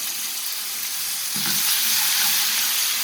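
Garlic ginger paste fries in hot oil for chicken tikka karahi. A dense, continuous sizzle is heard up close, and it grows louder partway through, with a soft stirring scrape.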